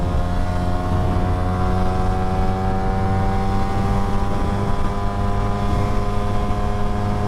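A Suzuki GSX-S150 motorcycle engine holds a steady, loud, droning rev at the top of second gear, continuous and close with no break.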